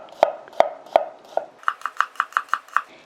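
Knife cutting garlic into slices on a cutting board, several sharp, evenly spaced taps followed by a quicker run of lighter, rhythmic chops, close and clear with no talking.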